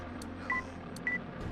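A pair of short telephone keypad tones sounding in a video game, Armored Core, separated by a pause and riding over a steady low background hum.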